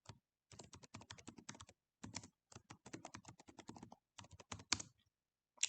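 Rapid typing on a computer keyboard while writing Python code, crisp close clicks in quick bursts separated by short pauses, with no voices.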